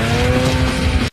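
Snowmobiles roar in a chase scene from the 2002 film xXx, a loud, close, harsh engine blast with tonal whine that cuts off abruptly.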